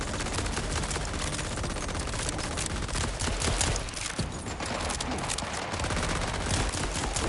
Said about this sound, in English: Where'd that turret come from?